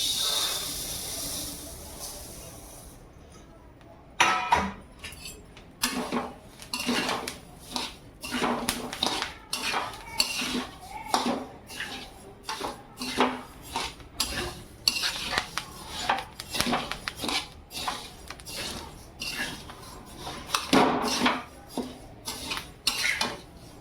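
Chili seeds roasting in a pan for homemade Agari Koli masala, with a steady hiss and repeated scraping of a utensil against the pan in an uneven rhythm, close and clear.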